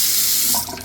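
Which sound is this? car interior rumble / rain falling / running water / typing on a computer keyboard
running water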